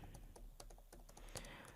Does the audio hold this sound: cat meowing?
no